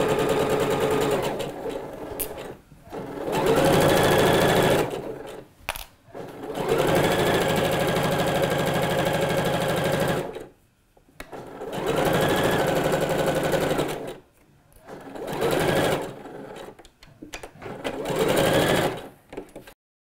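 A sewing machine stitches kimono blouse pieces in loud, steady whirring bursts of several seconds each, separated by short quiet pauses, close up with no talking.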